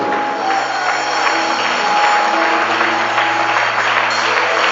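A church congregation applauding the Holy Spirit, a steady, dense wash of clapping from many hands throughout, loud and continuous.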